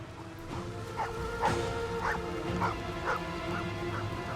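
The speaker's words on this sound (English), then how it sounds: "What about the dog? We have to rescue the doggy." A video game dog gives a regular series of short yips and whimpering barks, roughly one every half second, over steady game background noise and a low hum.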